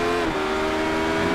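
Race cars in iRacing at Sebring under night conditions, a steady loud engine drone with harmonic whine; the spitting exhaust backfires are not distinctly separable from the continuous roar.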